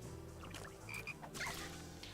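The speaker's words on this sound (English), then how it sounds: "Oh, there's a blue frog." Croaking calls of a blue frog creature in the video game Shadow Hearts, several short tonal croaks scattered over quiet game ambience, no one talking.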